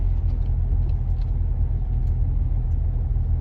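A vehicle on decent tires grinds slowly along a muddy off-road track, giving a steady, loud, close engine rumble with faint squelches and knocks on top and no talking.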